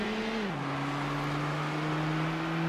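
Race car engine in Need for Speed: Hot Pursuit 2 (PS2), a loud steady droning hum whose pitch drops once early on and then holds level.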